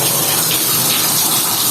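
Water flows by gravity from a storage tank with no pump pressure, a loud, steady rushing hiss that holds unbroken throughout.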